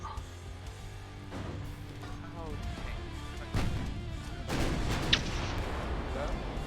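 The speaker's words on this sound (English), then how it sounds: "I guess torpedo hits, isn't it?" Torpedo hits explode against a warship in Ultimate Admiral Dreadnoughts, heavy booms and crashing blasts layered under battle noise while someone talks.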